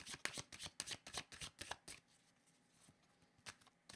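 Tarot cards being shuffled by hand, a close, quiet run of quick riffling flutters in rapid bursts, then a pause and a couple of brief final riffles.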